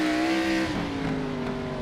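An IROC Series race car at Southern National Motorsports Park, bumped loose by a rival, its engine droning loudly and continuously with a shifting pitch as the tires scrub through the turn.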